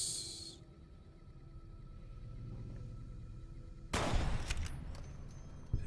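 Gunfire in the video game Fallout: New Vegas: a short burst of shots at the very start, a quiet low rumble, then a sudden loud crack with echoing bangs near the end.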